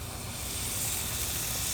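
Beyond Meat plant-based sausages sizzle on a grill with a steady, close hiss that holds even for a couple of seconds, no voices present.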